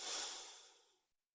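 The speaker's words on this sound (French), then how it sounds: "Prenez une grande inspiration profonde" A single deep breath in during a relaxation session, a soft airy inhalation that swells quickly, fades gradually over about a second and ends in silence.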